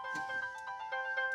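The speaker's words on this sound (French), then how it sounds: "Ah, téléphone." A telephone ringtone trills continuously in a bright, steady electronic tone with faint rhythmic pulses, heard close and alone.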